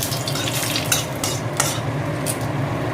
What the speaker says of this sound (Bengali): তো দিয়ে দেবো সর্ষে ফোড়ন, এটাও দিয়ে দেবো সর্ষে ফোড়ন, এটাও শুকনো লঙ্কা ফোড়ন